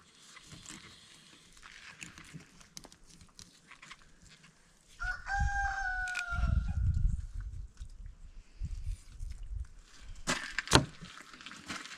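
A rooster crows on a homestead farm with chickens nearby, a single drawn-out crow rising over light clucking and wooden knocks, at moderate distance, with no talk.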